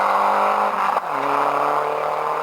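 A four-wheel-drive rally car races through heavy rain on a 1993 rally stage at Saint Marcellin, its engine loud and close with a drop in revs as it shifts, then pulling steadily again.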